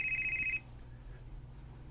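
A phone ringtone trills loudly in repeated electronic pulses for about half a second, cuts out to a quiet hum, then starts again at the very end.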